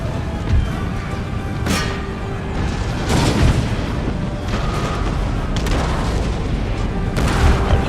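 Artillery volleys in Total War: Empire, Russian guns, boom out in several heavy, spaced blasts with rumbling tails over constant battle noise, and no voices.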